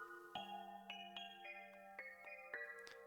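Phone in The Coffin of Andy and Leyley, a faint melodic ringtone of short tones stepping between pitches in a repeating pattern, quiet and clean with no talk.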